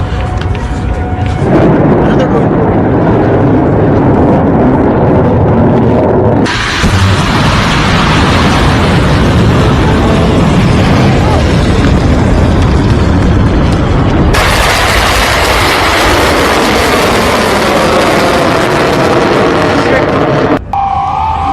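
Bunker-busting, ground-penetrating bomb explosions at Isfahan from a US strike, a continuous loud roaring rumble with abrupt shifts in intensity, heavily mixed with someone talking over it.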